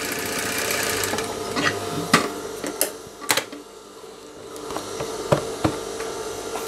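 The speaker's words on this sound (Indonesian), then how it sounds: "Di sini kita jahit sampai ke bagian atas." A sewing machine stitches up the side pocket of a pair of trousers, running in steady bursts with sharp clicks and short pauses between runs, close and fairly loud.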